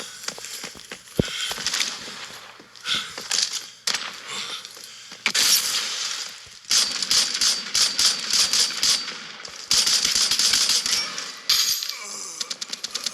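Bursts of gunfire in the video game Lost Light, rapid clattering shots in several separate volleys with short pauses between them, loud and close.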